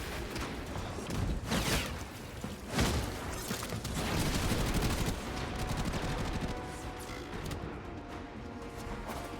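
Area-of-effect gun in Warframe firing continuously, with dense overlapping blasts and explosions forming a loud, sustained barrage with a few heavier impacts.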